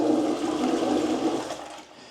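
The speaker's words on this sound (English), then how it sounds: "It has this rudimentary flush." A rudimentary toilet flushes with a rushing gush of water that holds steady, then drains away and fades over about two seconds, close by and without speech.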